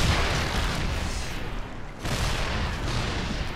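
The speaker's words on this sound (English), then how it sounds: "Low ground attack here with the siege tanks" Siege tanks in StarCraft II pound a low-ground attack, a dense continuous barrage of loud booming blasts that briefly thins before the heavy fire resumes.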